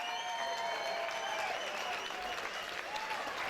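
An audience applauds after a white-collar boxing bout, with dense, steady clapping that fills the hall and holds at an even level throughout, with faint crowd murmur beneath.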